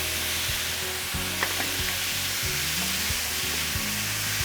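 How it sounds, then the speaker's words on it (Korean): Onion strips go into a pan of frying meat and sizzle loudly and steadily, with a utensil scraping and knocking against the pan now and then. "이제 양파채를 넣어 볼게요"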